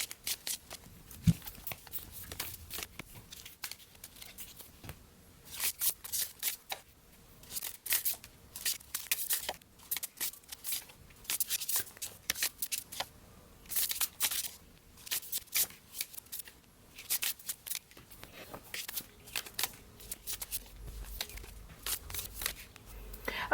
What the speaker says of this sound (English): I am going to lay these cards out and then we will get started.